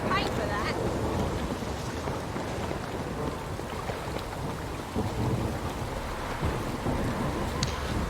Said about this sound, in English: It's kind of just I'm sick of the rain.